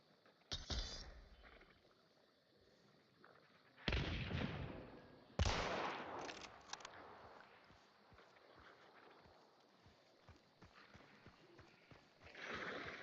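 Shotgun blasts in Hunt: Showdown sound as a few loud, sharp booms spread across the stretch, separated by quieter ambience and faint footsteps.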